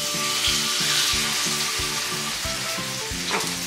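Salmon fries in a pan with a loud, dense crackling sizzle that continues throughout, while rhythmic background music plays underneath.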